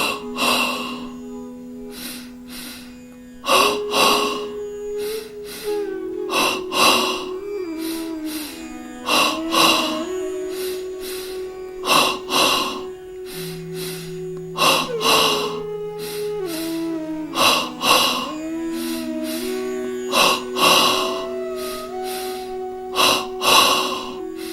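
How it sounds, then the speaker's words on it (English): Double breathing during a yoga exercise sounds as regular paired sharp nasal inhales and exhales, repeated in a steady rhythm, close and loud over a soft sustained music drone. "begin double breathing"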